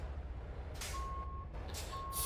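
A truck reverses into a parking spot in American Truck Simulator, its backup alarm sounding two steady beeps over a low idling engine rumble, with short bursts of air hiss between them.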